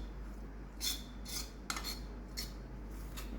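A spoon scraping rice onto a plate, several short metallic scrapes and clinks close by over a low steady hum, no talking.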